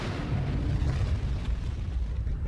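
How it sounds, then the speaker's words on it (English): A supernova explosion rendered as a sustained deep rumbling roar, dense low-end energy rolling continuously at steady loudness with no voices over it. "the whole thing's blowing up"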